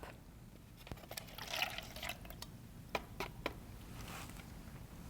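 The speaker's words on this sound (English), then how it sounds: "Then I'm going to pour it into my drinking cup." Lemon lime soda poured into a drinking cup, with a faint trickle and fizz and a few sharp drips and clinks against the cup, and no talking.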